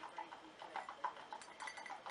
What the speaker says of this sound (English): there's horses going by my house